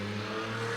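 A car engine revving close by, a steady droning hum that holds at a constant pitch through a brief moment.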